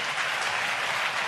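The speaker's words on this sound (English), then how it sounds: "Crowd lapping up every shot he plays." Snooker crowd at the 2017 China Open applauding a Ronnie O'Sullivan shot, a dense, steady wash of clapping from a large audience that holds loud throughout with no talk over it.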